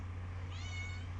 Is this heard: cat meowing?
yes